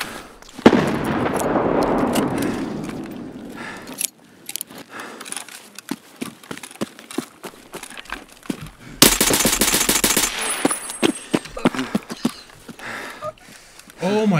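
Rapid automatic gunfire in Escape From Tarkov crackles in bursts, with a dense loud volley in the middle, mixed with clicks and handling noises and a voice talking over parts of it.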